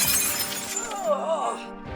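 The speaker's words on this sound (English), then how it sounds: "Anderson lands straight on a glass table." A glass table shatters under a falling body, a burst of bright crashing glass that tinkles away over about two seconds, mixed with other noise.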